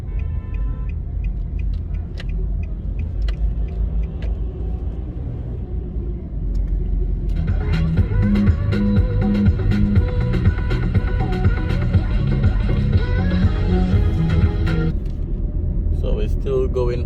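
A car drives along Hagley Park Road in Kingston, Jamaica, toward Half Way Tree, with a continuous low engine and road rumble from inside the cabin and passing traffic noise, loud and steady throughout.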